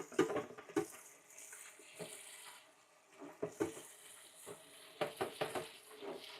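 Dishes being washed in a sink, a pan and a couple of bowls clinking and scraping under running water, with intermittent knocks and splashes close by; no talking.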